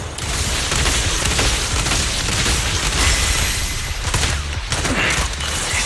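Gunfire rattles in the video game Zenless Zone Zero. Dense, loud, sustained bursts of shots mix with mechanical clanks and booms, continuous for several seconds.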